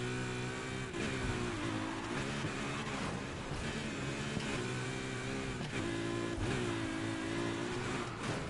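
A fast car in the racing game Need for Speed Heat drives with a loud, steady engine drone that rises and falls in repeated revving swells as it shifts gears, with no one talking.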